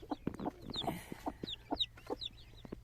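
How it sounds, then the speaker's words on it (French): A newly hatched Pekin chick peeps near a hen on a farm, with short, high chirps coming in an irregular run, mixed with low clucking and faint background noise, and no talking. "Voilà, un petit poussin."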